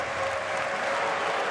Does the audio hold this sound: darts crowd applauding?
yes